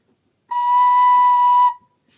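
A single steady B note is played on a recorder for just over a second, pure and bright with an abrupt onset and release, heard alone with no voices.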